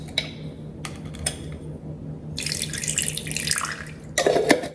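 Brine from pepperoncini peppers poured into a bowl of pasta salad, a near, bright splashing trickle that builds for a couple of seconds after some small clinks, ending in a short burst of liquid.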